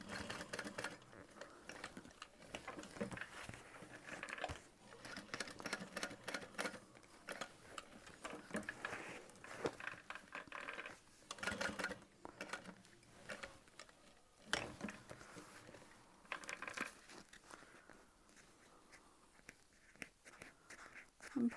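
A sewing machine stitching the Lauren bag runs in quick, rattling runs of ticking stitches. Short pauses break up the runs, and the machine sounds close but fairly quiet.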